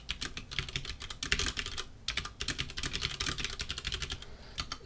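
Rapid typing on a computer keyboard during a programming lab, keys clattering in quick dense bursts with a short pause midway, close and steady with no talk.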